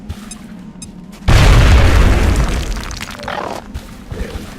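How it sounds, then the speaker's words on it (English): Grenade detonating in the turn-based strategy game XCOM Enemy Within, a single loud booming blast that hits suddenly and rumbles with debris, fading over about three seconds. "What about a grenade? Yes, I think a grenade."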